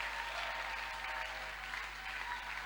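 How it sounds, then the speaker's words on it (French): A church congregation applauding to acclaim God during a French-language sermon, a steady, dense wash of clapping from many hands that holds evenly throughout at a moderate distance, with no voices rising above it. "Est-ce qu'on peut pas acclamer pour ce Dieu qui nous rassure?"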